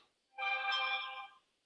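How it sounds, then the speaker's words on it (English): A phone's text message notification tone chimes once, a bright melodic ring lasting about a second, clear and close on a golf practice range, alone without talk. "Oh, text message because I'm really popular."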